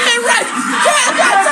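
A crowd of people screaming and yelling in a tense confrontation, shrill voices overlapping in loud, ragged bursts with shouted speech mixed in.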